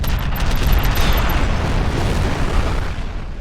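A rocket launcher explosion in F.E.A.R. makes a loud, sustained roaring boom that rumbles on for several seconds, with faint high ticking sounds early on.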